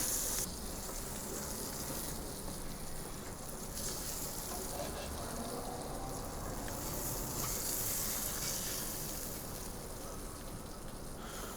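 Sardines coated in seasoned flour sizzle steadily in a hot pan, a dense continuous frying hiss that holds at an even level throughout.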